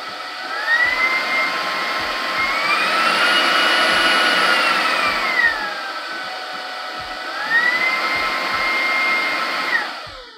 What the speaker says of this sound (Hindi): वैक्यूम क्लीनर पर एक बटन दिया गया है जिससे आप 3 सक्शन मोड्स में से एक सक्शन मोड सिलेक्ट कर सकते हैं।